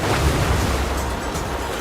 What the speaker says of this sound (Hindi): वो बारिश है? हाँ, बारिश है।